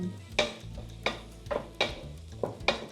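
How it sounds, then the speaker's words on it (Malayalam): Marinated prawns drop into hot biryani masala in a pan and are stirred. A steady sizzle runs underneath, broken by about six sharp scraping and clinking strokes of the spoon against the pan. It is close by and no one speaks. "ഈ മസാലയിലോട്ടാണ് നമ്മളിപ്പോൾ വയറ്റി വെച്ച ചെമ്മീൻ ഇടാൻ പോകുന്നത്."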